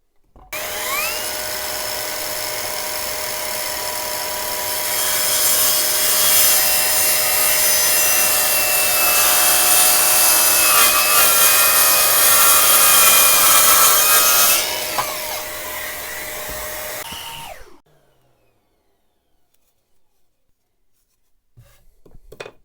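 An Enventor 20V 4Ah cordless circular saw with a 165 mm blade cutting through wood: a loud, close, whining buzz that rises as it bites in, holds steady for about fifteen seconds, then winds down to near silence.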